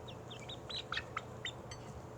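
A pet chicken called Chicky Chick gives a run of soft, quick clucks and chirpy calls. They are fairly faint and close, with a low steady background hum and no talking.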